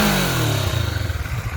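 A Kawasaki Vulcan 650 S, a liquid-cooled parallel twin on its stock exhaust, idles close by with a smooth, quiet, slightly whiny hum, its low pulsing firing rhythm steady and dropping a little in pitch early on, with no voices.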